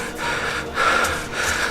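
Heavy, ragged panting after a hard hike, with close, loud breaths gasping in and out in quick succession.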